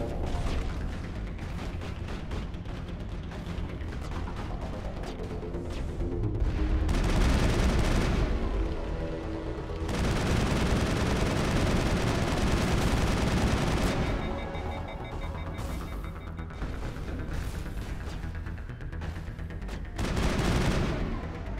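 Sustained bursts of rapid gunfire crackle in the Mass Effect game, dense volleys swelling loud in waves with brief lulls between, mixed with booming impacts and mechanical clatter.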